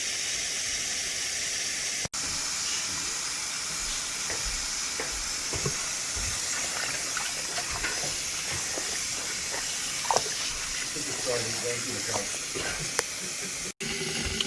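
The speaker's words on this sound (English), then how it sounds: "I have the water running" Tap water runs steadily into a kitchen sink over collard greens soaking in soapy water, a continuous close hiss with occasional splashes and clinks of leaves and hands moving in the basin.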